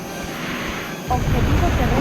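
A Harrier jet's engine roars in jet mode in the PlayStation game Eagle One: Harrier Attack, a steady rumble that swells abruptly louder and deeper midway through.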